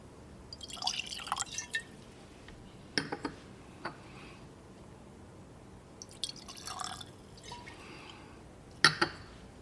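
Scotch whisky glugs out of a screw-top bottle in short liquid bursts with a few drips and splashes, close and alone with quiet gaps between pours.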